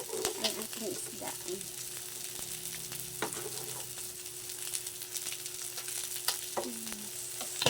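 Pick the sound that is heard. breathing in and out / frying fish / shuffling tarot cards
frying fish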